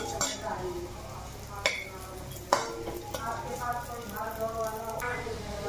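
Raisins roast in a little leftover ghee in a pan. A spoon gives several distinct clinks and scrapes against the pan over a soft, steady sizzle.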